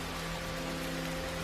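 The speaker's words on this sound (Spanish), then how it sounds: "el cielo dejó caer una lluvia torrencial, que no cesaba" Torrential rain falls in a steady, dense hiss, a constant wash of drops under a low droning hum.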